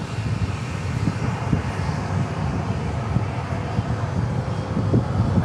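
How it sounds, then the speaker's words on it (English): A Boeing 737 comes in to land at Dallas Love Field, its engines a steady, loud, broadband roar with wind buffeting throughout and no talk. "we've got a 737 landing right now"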